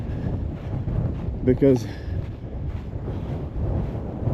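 Strong wind on a mountain summit buffets the microphone in a continuous low roar throughout, with a person speaking briefly partway through.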